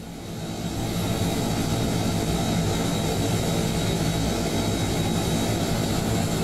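Tilt-rotor aircraft engines in Microsoft Flight Simulator, a loud steady roar of engine and rotor noise that swells over the first second and then holds constant.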